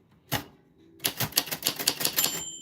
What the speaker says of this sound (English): your name fell on the typewriter bell